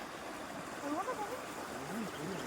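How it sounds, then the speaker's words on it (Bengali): Stream water flows with a soft, continuous rushing murmur in the background while someone speaks over it. "দেখতে পাচ্ছ কিরকম জল বয়ে যাচ্ছে"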